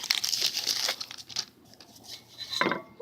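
Crinkling and tearing of an old, sealed 1990 Score football card pack wrapper stuck together with age, a burst of close crackling at the start, quieter rustles in the middle and a final sharp rip near the end.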